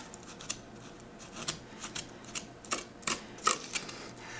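Knife or scissor cuts shaving a ridge across the top of a handmade model mountain for a Southwest rock formation scene, a series of soft, quiet, irregular snips and scrapes, close by with no talking.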